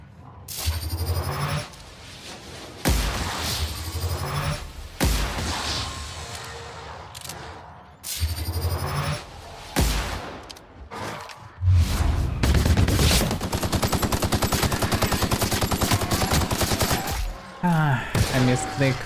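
Rapid pistol fire in The Outer Worlds on Supernova mode, with bursts of loud sharp shots, whooshing impacts and chaotic combat noise running nearly continuously and growing denser toward the end.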